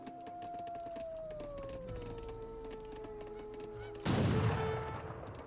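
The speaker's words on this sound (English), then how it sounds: "Good volley there by the skirmishers" A musket volley fired by skirmishers in an Age of Empires 3 battle bursts out as a loud crackling crash near the end, after a long wavering tone and steady game ambience.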